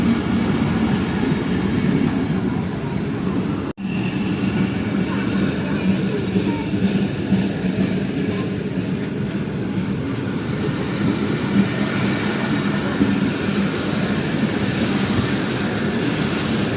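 Khyber Mail passenger train running, 2 Down, roughly 31 minutes late: a loud, continuous rumbling roar of carriages rolling on the rails from on board, with one sharp jolt early on and faint clatter throughout.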